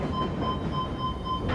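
Train in the horror video game Post Trauma, a steady rumbling rail rolling sound with a faint ringing tone, continuous and fairly close, with no talk over it.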